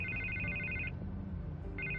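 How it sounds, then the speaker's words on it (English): A telephone rings in Batman: The Telltale Series, two electronic trill bursts separated by a pause, over a low ambient music bed. "I can't get the phone to stop ringing"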